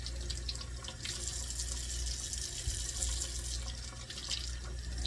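Water runs steadily from a kitchen tap into a sink while green peppers are washed under it, a continuous splashing hiss with no talk.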